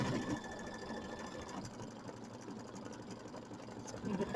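An embroidery machine stitches a decorative fill and tack-down line for a Kimberbell mini quilt, giving a steady, close mechanical whir with a rapid needle rhythm that holds even throughout and swells slightly at the end.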